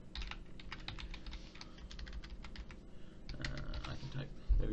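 Quick, uneven clatter of keys on a computer keyboard, close and steady for several seconds, with a few heavier thumps near the end and faint background hum.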